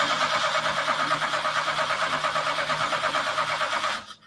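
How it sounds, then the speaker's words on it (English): An engine cranks over via a remote starter with ignition and fuel disabled, a fast rhythmic churning of the starter motor for about four seconds, loud and close, then abruptly stops without firing. "I'm going to use our remote starter to crank the engine"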